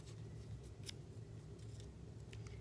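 Paper being ripped into tiny pieces by hand, faint soft tearing and rustling in short bursts close by, with no talking.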